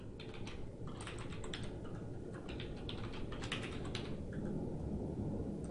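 Fingers type a password on a computer keyboard in a steady run of quick, close keystrokes with small pauses between bursts, over a low constant room hum.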